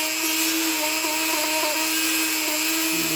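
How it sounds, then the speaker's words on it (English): Rotary abrasive grinding bit spinning against clutch pads of a Grubee Platinum Fire engine, a steady high-pitched whine with faint rhythmic variations, close and continuous. "This is the grinding bit."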